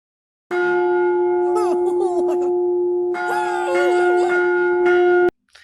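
A deep resonant gong rings out loudly in a South Park episode, its steady tone sustained for several seconds while voices wail and groan over it before it cuts off abruptly.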